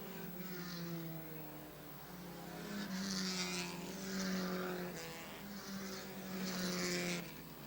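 Race cars circle Airborne Speedway in Plattsburgh, New York, engines droning steadily with swelling and fading roars as cars pass, building louder toward the middle and end, heard from a distance.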